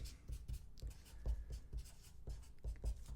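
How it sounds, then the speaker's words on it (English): A pen scratches across a piece of paper in short, uneven strokes, quiet and close, with brief pauses between the scribbles. "Let me see if I can write this down here."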